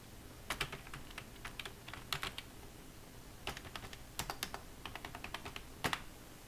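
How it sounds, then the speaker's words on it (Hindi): Keystrokes on a computer keyboard come in short irregular bursts as a password is entered, crisp and close with brief pauses between clusters of clicks. "मैं पासवर्ड डाल के एंटर करता हूँ।"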